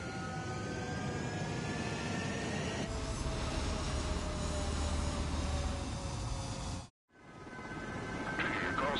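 Jet fighter engines roar steadily on the runway during takeoff in the video game Ace Combat 7, a sustained loud rumble that briefly drops out, then swells back.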